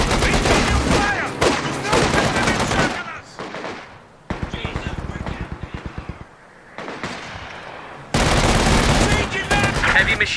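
Gunfire crackles through a video game battle, dense bursts of rapid automatic shots close and loud, with a short stretch of spaced single reports and lulls between heavy volleys.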